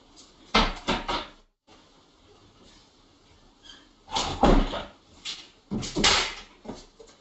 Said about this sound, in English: Yeah, the wind opened the doors.